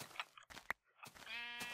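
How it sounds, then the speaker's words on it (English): Sheep in Minecraft bleat while being sheared, several short nasal bleats in quick succession, close and distinct with brief gaps between them and no talk. "I will get to as soon as I relieve these sheep of their wool, which is now mine"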